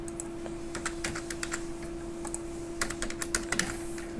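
Rapid clicking of fingers typing on a computer keyboard, uneven bursts of light key taps close up over a quiet, steady background hum.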